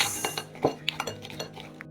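Salted garlic cloves go into a glass jar for a garlic pickle, giving a quick run of bright clinks and knocks against the glass, close and fairly loud, with no talk.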